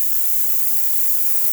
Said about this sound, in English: Nice steam coming out through the boiler.